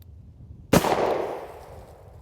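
A single sharp gunshot cracks from an Armscor M200 .38 Special revolver with a 4-inch barrel, loud and close, its echo decaying over about a second after a quiet lead-in.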